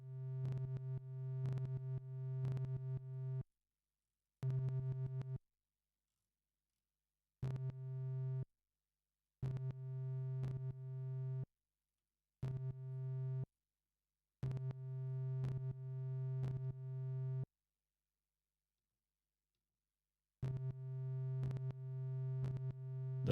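A Eurorack Disting Mark IV module plays a constant C3 note in repeated bursts, a steady buzzy pitched tone with rich harmonics that starts and stops in rhythmic blocks separated by silences, quiet overall.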